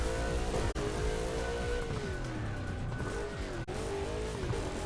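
A car in Burnout Paradise Remastered on Nintendo Switch, engine roaring steadily while tires squeal and skid in long wavering tones, loud and continuous with two brief dropouts.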